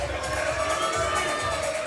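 Crowd at a PBA bowling match in Portland cheering and murmuring steadily throughout, a dense, continuous roar of many voices filling the hall.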